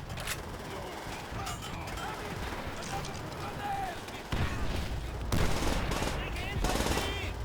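Bursts of automatic gunfire from the Call of Duty video game rattle at mid distance, with heavier volleys toward the end and voices talking faintly underneath.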